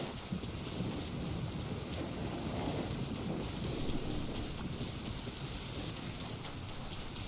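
A Genshin Impact game thunderstorm: steady rain hiss with low rumbling thunder rolling beneath, constant and fairly loud throughout, with no voices.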